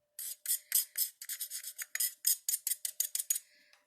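A metal tool scrapes rehydrated metal clay in a rapid run of about fifteen short, raspy strokes, close and fairly quiet, with no voices.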